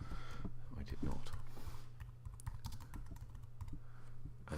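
A title being typed on a computer keyboard, with a rapid close clatter of keystrokes in uneven bursts and a voice audible alongside.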